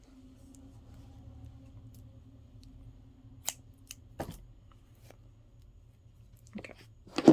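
Scissors snip crochet yarn in a few sharp, brief cuts, close and fairly quiet, over a low steady background hum with no talking.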